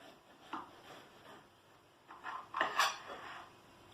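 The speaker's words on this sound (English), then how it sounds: "it's the cutting of the cake now." A knife slices through a Welsh fruit cake (teisen) with a few soft scraping cuts and light clinks of cutlery against a plate, close and fairly quiet, with no talk during the cutting.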